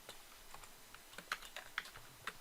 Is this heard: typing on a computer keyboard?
yes